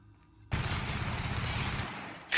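A heavy weapon test-fired in The Outer Worlds, a sudden loud burst of rapid, dense gunfire that roars steadily for about two seconds before cutting off, followed by a sharp hissing tail.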